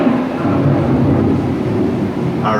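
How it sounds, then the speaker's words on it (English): Thunder from an approaching storm on the Living with the Land boat ride, a heavy, continuous low rumble with rain-like hiss, steady and loud throughout. "The approaching storm may seem violent and destructive to us"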